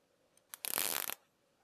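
A quick snip-and-rustle of scissors trimming the excess from a UV- and heat-resistant wire tie on a Mercedes 560SL auxiliary fan, one short dense burst of clicks after a faint tick, close and quiet.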